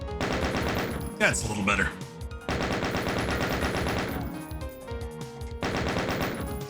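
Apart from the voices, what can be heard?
chain gun firing in Doom (Smooth Doom mod), video game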